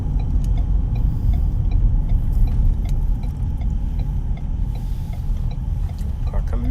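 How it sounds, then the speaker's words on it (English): A car passes on a road near a housing development, a loud steady rumble of engine and tires that holds throughout, heard from inside a moving vehicle with faint clicks. "Car coming."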